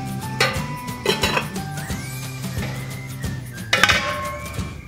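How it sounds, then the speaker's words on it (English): Glass canning jars clink and knock against a metal pot as they are lowered into hot water while canning apple butter, several sharp clinks over a low rumble of boiling water. "To put the jars in the hot water,"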